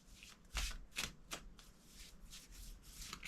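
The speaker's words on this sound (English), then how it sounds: "Let's get one Dreamology card out." Dreamology oracle cards riffled and drawn by hand, a few crisp bursts of flapping and sliding card noise, close and fairly quiet, with no one talking.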